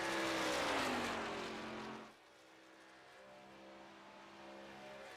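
A race car lapping the Pelican's Snoballs Superspeedway, its engine roaring loudly at first, then dropping away sharply after two seconds to a distant, steady drone of cars circling the track.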